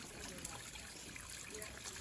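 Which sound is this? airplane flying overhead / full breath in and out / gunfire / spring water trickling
spring water trickling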